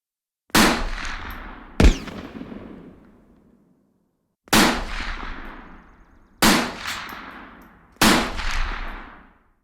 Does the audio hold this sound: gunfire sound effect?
yes